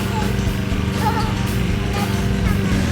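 A child's toy bubble lawn mower being pushed, giving a steady low mechanical whir and hum throughout, with voices talking over it.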